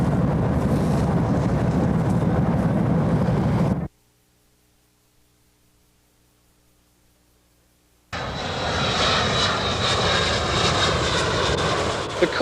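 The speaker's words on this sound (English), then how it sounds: "The cargo jets were coming into the airport one right after another." Cargo jets landing at an airport in heavy fog: a loud, steady engine roar that cuts off abruptly, leaving several seconds of near silence, then another jet's roar returns at full strength.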